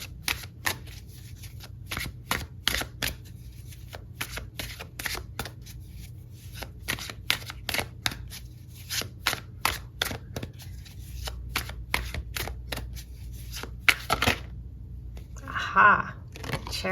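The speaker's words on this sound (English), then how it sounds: "I'm going to pull you some cards." Tarot cards shuffled by hand in rapid, crisp riffling bursts and flicks, close and fairly quiet, repeating in short clusters with a pause near the end.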